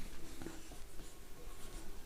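Chalk or marker scratching steadily across a classroom board as a physics solution is written out, a faint continuous scraping with small rhythmic strokes.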